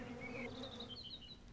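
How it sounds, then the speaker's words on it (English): European honeybees buzzing near a hive, a steady, fairly faint drone with shifting wingbeat pitches as individual bees pass close, no voices present. "This is the European honeybee."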